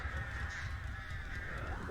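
Crows caw repeatedly from the Artist killer's birds in the horror game Dead by Daylight, harsh honking calls over a low rumbling background, moderately faint.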